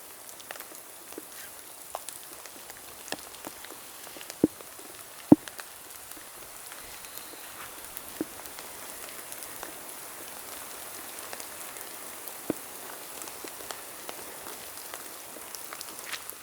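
Rain falls steadily at a forest campsite on Jeju, a soft continuous patter with scattered sharper drips and taps landing close by.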